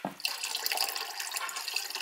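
Liquid plant food pours into the water basin of a Gardyn indoor garden, a continuous close splashing trickle after a brief initial clunk.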